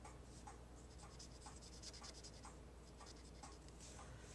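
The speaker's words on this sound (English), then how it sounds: "Then I'll draw that color up into his face" Faint scratchy strokes of a marker or pencil coloring on paper, a steady rhythmic series of short rubbing sounds repeating over several seconds, close and quiet, with no talk.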